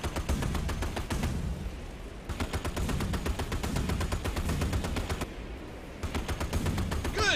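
Warship guns fire in Battlestations: Midway, a rapid, steady stream of close, loud reports hammering on with brief pauses between bursts.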